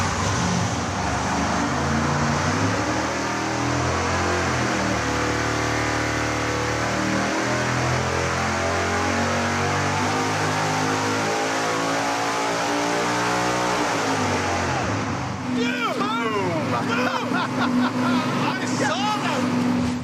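A double-nitrous V8 race engine chasing over 1,500 horsepower roars at full throttle on a dyno, a loud sustained rising howl that suddenly drops off, followed by excited shouting over the fading engine.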